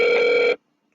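A telephone rings once in a single steady half-second burst, close and loud, then cuts to silence while a call is being placed to reach someone's mother.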